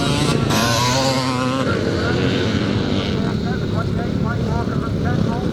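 Motocross bikes at a classic race in Penrith, including a Yamaha YZ 490, rasp and rev continuously, their engine pitch rising and falling as they pass. A commentator talks steadily over the racing.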